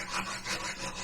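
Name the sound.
wire brush rubbing over rusty magnet-fishing find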